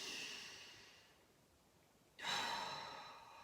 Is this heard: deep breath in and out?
yes